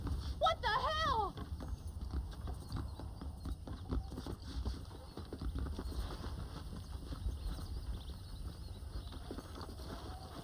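Horse hooves clip-clopping at a steady walking rhythm while riding in the video game Red Dead Redemption, moderately close, with a brief whinny near the start and ambient outdoor background.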